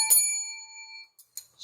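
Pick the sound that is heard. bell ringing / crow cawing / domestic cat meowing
bell ringing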